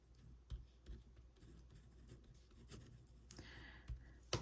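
A pen scratches softly across a planner page in short, faint strokes, close and quiet with light rustles of paper and hands.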